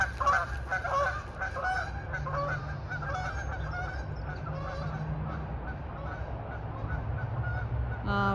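Geese honk in a loud overlapping chorus nearby that fades to a softer, more distant calling over several seconds, with no talking.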